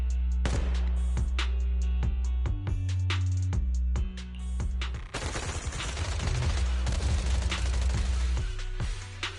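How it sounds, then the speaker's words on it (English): Rapid bursts of video game suppressive marching gunfire crack repeatedly, joined by heavy low rumbling and a dense wall of overlapping shots that grows louder and more chaotic. "Gunfire? This pattern. Suppressive marching fire."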